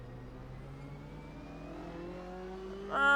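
Porsche 911 engine in the Assetto Corsa racing game, a steady mid-pitched drone slowly rising in revs, then a louder surge near the end.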